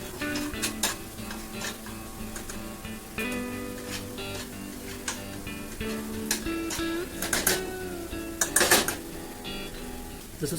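Onions sizzle steadily in a pan while a utensil stirs and scrapes them, with irregular clinks of metal on the pan at close range and no voices, as anda bhurji, a Mumbai street-cart egg dish, is being made.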